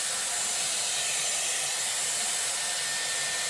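A Dyson Airwrap blows hot air at the roots of hair during a salon-style bouncy blow-dry, a loud, close, continuous rushing whoosh held steady without a break and no talking.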